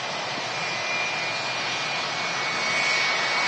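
A 26-year-old Jet2 jet airliner, just in from Ibiza, arrives at Manchester Airport with a loud, steady engine roar and a thin high whine, holding constant and swelling slightly toward the end.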